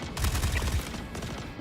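Rifle fire from the space video game Star Citizen, a dense burst of rapid shots in the first moment that trails into a steady rumbling mix of weapon noise and ambience, fairly loud with no talking.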